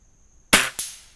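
A single sharp shot from a Weihrauch HW50 air rifle, loud and close, followed a quarter second later by a second crack as the pellet strikes the target downrange.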